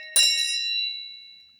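A single strike on a large bell, pitched around D sharp 5 and lower than the smaller head bells, gives a sharp metallic onset followed by a clear, sustained ring that fades slowly on its own.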